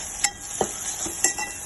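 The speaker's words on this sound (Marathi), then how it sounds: "आणि आता आपण याला मिक्स करून घेणार आहोत।" A spoon stirs garam masala and coriander-cumin powder into dal in a pan, giving a few sharp clinks and scrapes against the metal over a faint sizzle, close and brief.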